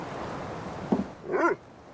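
Mr. Chops, a demon dog in a folk horror deckbuilding card battler, gives a short bark followed by a whining, yelping call, both fairly close over a faint background bed.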